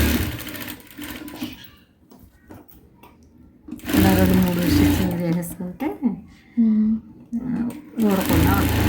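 A sewing machine stitches fabric in short, loud bursts that start and stop, with a whirring drive and rapid needle rattle, interleaved with someone speaking between the runs.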